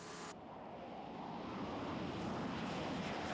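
Military jets, Mirage F1, Jaguar and Mirage 2000 fighters, taking off during Operation Desert Storm in 1991: a steady, broad roaring rush of jet engines that builds slightly in loudness, heard alone without talk.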